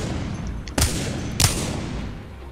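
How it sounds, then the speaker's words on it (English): A pistol in Apex Legends fires two sharp, loud shots about half a second apart, each followed by a short echoing tail over a low steady background. "probably the best pistol in the game"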